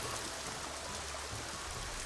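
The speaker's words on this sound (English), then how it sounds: "This is also when I decided to start exploring the area, which is when I found this waterfall." Waterfall in the Assassin's Creed Shadows game, a steady, faint wash of rushing, splashing water heard alone with no change through the moment.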